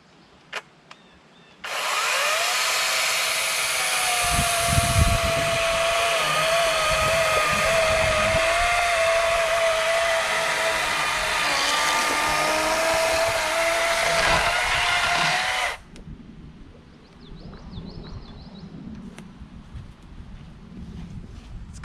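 Hyperecho 40V 14-inch brushless chainsaw cutting through pine, a loud steady motor whine with chain rasp sustained for about fourteen seconds, then cutting off to quieter background.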